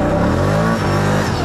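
A Can-Am off-road vehicle stuck on poor tires revs hard and steadily, a loud, close engine drone that holds throughout without a break.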